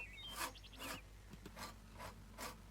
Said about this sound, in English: I'm using a metal cabinet scraper to scrape the varnish off the wood.